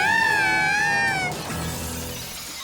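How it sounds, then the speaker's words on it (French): Cartoon glass shatters in a laboratory: a loud wavering, whistling tone rings out first, then a noisy crash with scattered tinkling debris that fades slightly over the last second. "Et qui va nettoyer tout ce verre cassé?"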